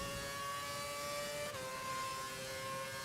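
F1 car engine in F1 2011 at the Turkish Grand Prix, a quiet, steady high-pitched whine held at near-constant speed, with a slight pitch dip midway.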